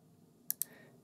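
Two quick, crisp computer keyboard key presses a moment apart, quiet and close in an otherwise near-silent room.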